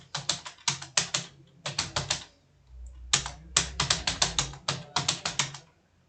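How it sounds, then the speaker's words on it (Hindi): Hindi words are typed in rapid bursts on a computer keyboard, clusters of crisp key clicks separated by short pauses, close and clear, with a faint low hum beneath one gap. "मैं यहाँ पे सारा वर्ड ही टाइप करके आपको दिखा दे रहा हूँ"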